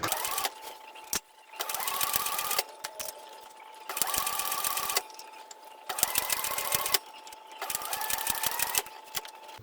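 A sewing machine back stitches a lined bag in several short whirring runs of rapid needle clatter. Brief pauses between the runs carry soft handling clicks and rustles, with the motor moderately loud and close throughout.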